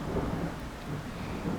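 Thunder in a storm, a dense low rumble rolling steadily with broadband rain-like hiss, sustained and fairly loud with no voices.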